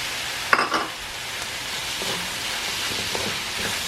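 Shrimp and softened tomatoes cooking in a pan, a steady moderate sizzle throughout with a sharp clatter of the shrimp going in near the start and faint stirring scrapes after.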